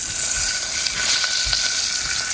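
Red chillies fry in hot oil with a steady, loud, close sizzle, a continuous crackling hiss and no speech.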